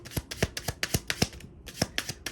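Tarot cards riffle-shuffled by hand, a run of crisp fluttering bursts close up with brief pauses between riffles, no talking.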